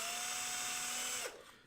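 A power drill bores a small pilot hole for a loop-on-ground receive antenna, a steady high whine that holds for over a second, then abruptly winds down and stops.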